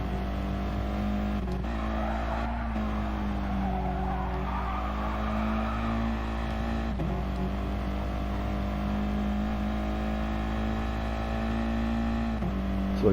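A green Volkswagen Scirocco race car drives on track, its engine holding a steady drone with occasional brief shifts and tire noise, loud and close for the whole stretch.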